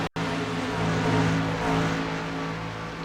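A Toyota Tundra race truck engine drones steadily at high revs in a racing video game, a loud sustained buzzing tone that rises slightly and holds after a brief cut at the very start.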